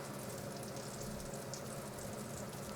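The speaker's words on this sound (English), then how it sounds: "when the butter goes in, before it turns brown" Butter melts in a pan ahead of veal piccata, giving a steady, even sizzle and fine crackle that holds at moderate level with no pauses and no voices.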